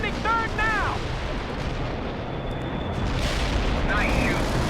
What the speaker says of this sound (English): Just keep spamming that artillery.